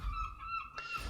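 Seagull cries from the fantasy strategy game Total War: Warhammer 2 ring out as a few sharp, nasal calls stacked close together, moderately loud against a low steady game ambience, with no talking.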